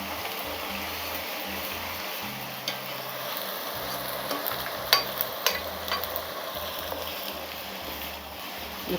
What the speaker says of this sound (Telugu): కొంచెం వేగాల, ఒక 2 నిమిషాలు అట్లా వేగాల, ఆ పచ్చి వాసన పోవాల